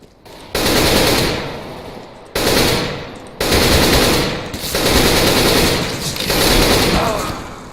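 Automatic weapons fire in Counter-Strike: Global Offensive comes in four or five loud, sustained bursts with short gaps between them, close and dominant.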